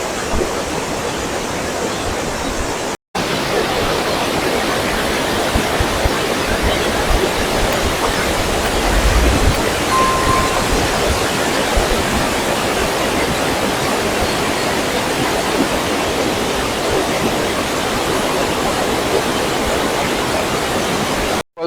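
Lodh waterfall in Netarhat pours in a dense, unbroken roar of falling water, loud and close. The rushing stays steady for the whole stretch, broken only by a momentary cut near the start.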